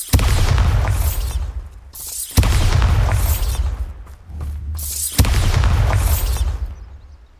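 Three heavy magical blasts from the Bombarda spell in Hogwarts Legacy, each a loud booming burst followed by a decaying rumble, spaced about every two and a half seconds with no talk.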